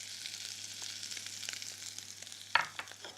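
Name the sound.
butter frying with anchovies, garlic and chilli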